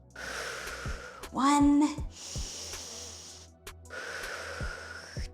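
A child breathes deeply while holding a yoga tree pose: several long, hissy breaths in and out, close and fairly loud, with one brief counted word spoken between them.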